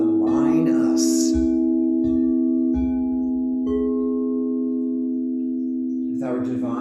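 Meditative tones at an online Sunday celebration service form a steady, layered drone that holds unbroken for about seven seconds, with faint soft noises underneath.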